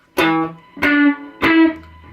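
Electric guitar plays three sharp, distorted strums of a riff, with the other strings muted so only the G string rings, each strum briefly sustained then choked off, close and clear.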